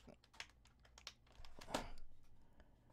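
A computer keyboard clicked in scattered bursts of keypresses, a few sharper strokes standing out, close and fairly quiet with no talk.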